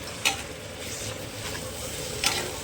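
Masala sizzling in a pan with water added bit by bit while being stirred, a steady frying hiss with occasional sharp scrape or clink of the spoon, close and moderately loud.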